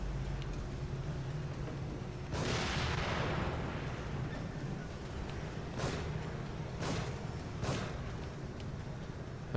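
Gunfire in The Evil Within survival horror game: one loud, sharp shot with a booming decay, then three quicker, crisp shots later, over a steady low rumble of game ambience.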